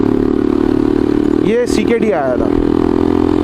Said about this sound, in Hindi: ये मोटरसाइकिल जो मेरे पास यूज़ हो रही है, ये मैं यूज़ कर रहा हूँ, 2015 का मॉडल है ये